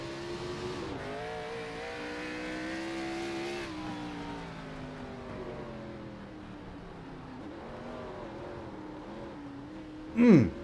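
Race cars on the Daytona road course in iRacing, engines droning and shifting pitch as they accelerate and brake through corners, a sharp brief burst near the end, with a commentator talking over them.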